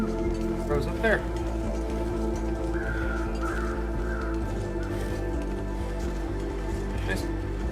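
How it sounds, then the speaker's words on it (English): Crows caw in a snowy wilderness in the survival game The Long Dark: a few scattered calls at middling distance, set against a steady low wind-like drone with no talking. "Crows up there."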